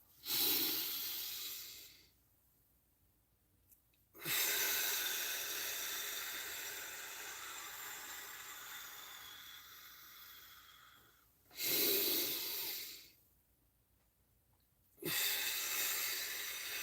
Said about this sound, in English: think of those things that you're breathing in something good and exhaling something crappy